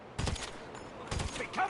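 Two sharp bursts of gunfire in GTA Online, the first near 0.2 s and the second about a second later. Each is loud and close, and faint game noise fills the gaps between them.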